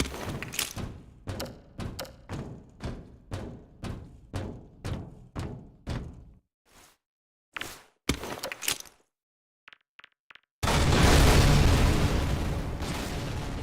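A high-explosive canister grenade in Half-Life 2 Episode One detonates with a loud, dense blast that rumbles on, following a long run of rhythmic heavy thuds and a few scattered clicks.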